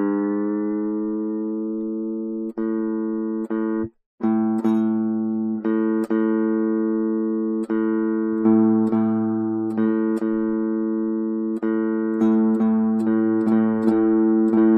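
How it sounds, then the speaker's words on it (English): Guitar notes plucked while tuning the open A string against the A on the low E string, sustained ringing tones repeatedly re-struck in an uneven rhythm, close and clear with no talking. "now I'm playing the note A on the low E string, and when I hit the open A string, it's the same note"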